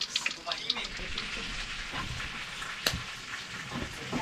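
Fatty surahan fish frying in a pan, giving a steady, dense sizzle and crackle that runs the whole time, with a voice talking faintly beneath it.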